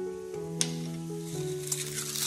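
Cumin seeds crackle and sizzle in hot coconut oil in an Instant Pot, a close, steady frying hiss with a few sharper pops and a low hum running underneath.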